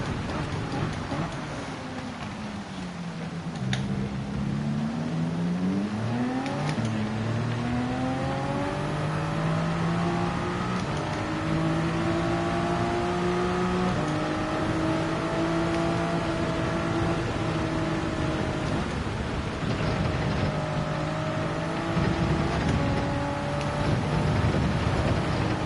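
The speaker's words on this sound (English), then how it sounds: "the Porsche has some great acceleration here" Porsche race car in Gran Turismo 7 at Spa-Francorchamps, engine revving up through the gears with rising and falling pitch sweeps at each shift, loud and continuous over steady road and wind roar.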